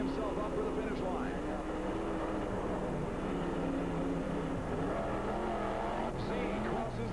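A monster truck engine roars steadily and loudly in a 1991 USHRA Anaheim stadium race, revving hard through the final turn toward the finish, with an announcer talking over the continuous drone.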